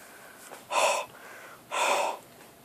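A voice imitates heavy breathing for Ryu from Street Fighter: two strong, breathy huffs about a second apart, close and loud against a quiet background.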